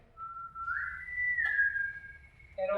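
A person whistles one sustained, gliding tone that rises slightly and holds, up close over a low background murmur, with a brief click partway through.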